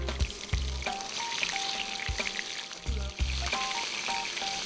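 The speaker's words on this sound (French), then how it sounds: "La deuxième étape consiste à saisir de façon rapide pour bien faire sortir le gras, puis retourner pour bien saisir le dessus de façon à obtenir une jolie couleur." Duck breasts (magrets) searing quickly in a hot pan to render the fat, then turned to color the top; a steady close sizzle and frying crackle with a few clanks, no talking.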